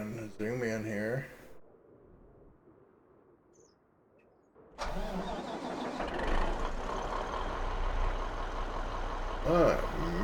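A truck engine in Farming Simulator cranks and starts up after a quiet stretch, settling into a steady, fairly loud running rumble that carries to the end.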